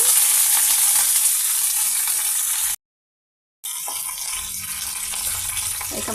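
Chana dal and curry leaves fry in hot oil in a pan, giving a loud, steady sizzle close up that cuts out briefly and then carries on.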